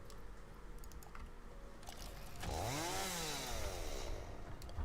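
A chainsaw in the game Satisfactory revs up midway, its pitch sweeping up and back down before settling into a steady buzzing drone, faint and underneath scattered keyboard clicks.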